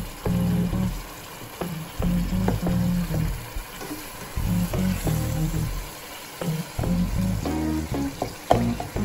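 Hamburger Helper Four Cheese Lasagna sizzling and frying in a pan while it is stirred, a steady crackle with repeated scraping and clinking strokes throughout, close and fairly loud.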